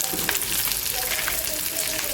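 Onions with added salt sizzling and crackling in a pan, a dense steady fry heard close and fairly loud with small pops scattered through it.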